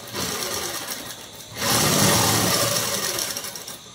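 A sewing machine stitches gathered fabric for a lehenga-style long frock, its motor whirring in a steady close drone that slows briefly, then picks up louder and continues without pause.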